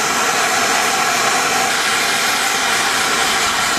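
A torch flame roars in a steady, loud, close hiss while melting silver and gold in a prepared dish, with no pauses or talk.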